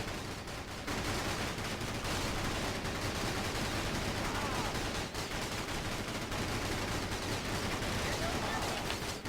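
Sustained gunfire from Tundran troops in the Battalion Wars video game, a dense continuous rattle of rifle and machine-gun shots that runs loud and steady, with possible faint voices mixed in.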